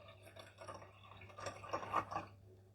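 Water poured into a Turkish coffee pot until it is half full, a soft close trickle and splash that swells briefly and then fades, faint and without talk.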